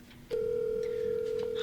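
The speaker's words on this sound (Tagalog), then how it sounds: "O yun, nagri-ring na." A cellphone call rings out: a sudden steady electronic tone switches on and holds, clear and close, after a brief quiet start.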